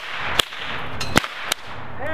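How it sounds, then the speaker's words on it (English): Several loud, sharp cracks from a small nylon whip ring out in quick, uneven succession, three or four snaps within two seconds. "Oh, really cracks loud."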